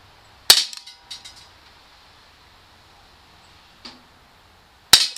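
Umarex Walther P38 CO2 blowback BB pistol fired indoors on a tabletop: sharp isolated cracks with a metallic slide clack, one shot near the start, a softer pop later and another crisp shot at the end, separated by quiet pauses.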